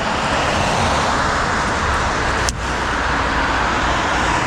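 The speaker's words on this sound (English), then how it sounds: "A lot of traffic. It's rush hour right now." Steady wash of road traffic at rush hour, a continuous broadband roar of passing cars and engines heard from the roadside, with one brief sharper swish as a vehicle goes by midway.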